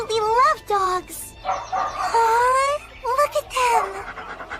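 Hunting dogs kept by trainers in a mountain village bark and whine in an anime scene, a run of high, wavering yelps and drawn-out whimpers rising and falling close by, with short gaps between calls.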